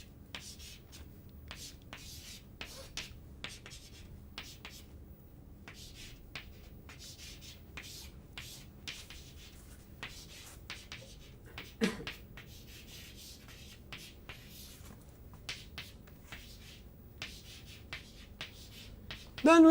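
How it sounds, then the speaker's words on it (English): Chalk or marker writes the Navier-Stokes equation on a board in a quiet lecture room, a long run of faint, quick scratchy strokes with short pauses and an occasional tap. "If I write down the Navier-Stokes equation"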